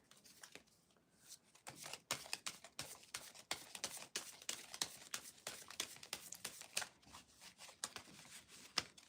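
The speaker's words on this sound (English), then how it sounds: "I'm going to have to slow down my shuffling" Tarot cards are shuffled by hand in quick, irregular riffles and flicks, a soft, close papery patter that continues almost without a break.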